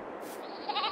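Goats bleat on a Scottish goat dairy farm in Farming Simulator 22, a short, steady, wavering animal call with no talking.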